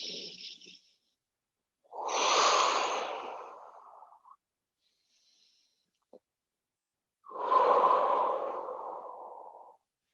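Slow, deep yoga breathing during a calm floor session, two long audible breaths separated by silence, each swelling and then fading gently, close and soft.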